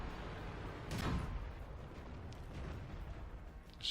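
Tank gun blasts and shell hits in a competitive tank battle game, with one heavy boom near the start and dull impacts rumbling over a constant low battle din.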